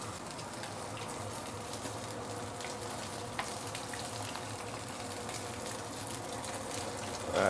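A whole fish deep frying in hot oil for a sweet and sour dish, giving a steady, dense sizzle and crackle that stays close and even, with no talking.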